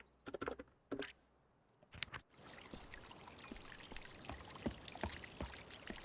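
Fountain water flowing in the video game Chants of Sennaar, a steady splashing, pattering stream with scattered drips, sparse and broken at first, then continuous and fairly quiet.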